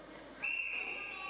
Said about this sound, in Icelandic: dómarinn byrjar að flauta og svona